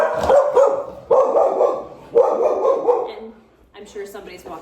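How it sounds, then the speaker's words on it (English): A dog barks outside a window in repeated bursts of three or four loud barks, then a few softer yips and whimpers at the end, fairly close and with no talk over it. "sure somebody's walking their dog there in front of my big window in the house"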